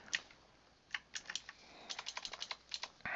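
Quiet clicking keystrokes on a computer keyboard come in short irregular bursts, the taps close and light with no voice over them, during a game.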